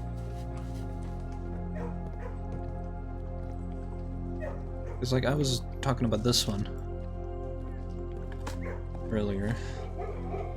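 A dog in the video game Blue Prince gives short bursts of yips and whimpering barks over a steady droning game soundtrack, while someone talks quietly throughout.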